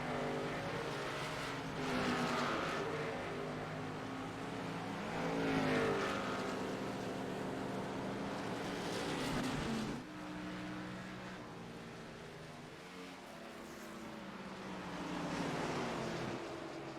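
Race cars in a racing video game drift through the turns at New Hampshire Motor Speedway, engines swelling and fading in repeated waves with tire scrub between them, moderately loud and without voices.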